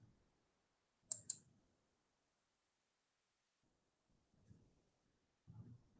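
A computer keyboard key pressed in quiet surroundings: a quick double click near the start, then two softer, fainter taps later on.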